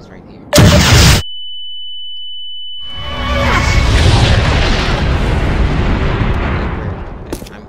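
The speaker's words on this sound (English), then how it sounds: "You just need to get away from that explosion." A video-game explosion in Garry's Mod: a sharp, loud boom bursts out, followed after a short gap by a long, roaring rumble that swells and slowly fades over several seconds.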